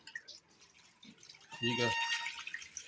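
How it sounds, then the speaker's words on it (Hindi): A raw leg of mutton is rinsed under an open running tap. Water splashes and patters steadily while someone talks over it. "इसको अच्छी तरह खुले पानी में इस तरह करके धो लेंगे।"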